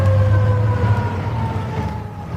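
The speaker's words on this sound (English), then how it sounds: "Fire engines came zooming, and there were people everywhere" Fire engine sirens wail in a children's story setting, a loud sustained tone that slowly falls in pitch over a low engine rumble.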